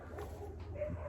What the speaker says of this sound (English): Dog fight.